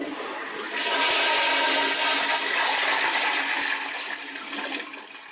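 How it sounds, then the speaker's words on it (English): A toilet flushes loudly and close by, a sustained rushing roar of water that swells, holds for several seconds, then begins to taper off, with no one speaking. "I will give you a courtesy flush."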